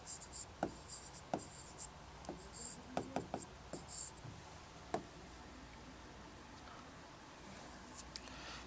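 Chalk or marker tapping and scratching on a classroom board while a question is written, a run of short sharp ticks and scrapes clustered in bursts with pauses, faint and close, no talking.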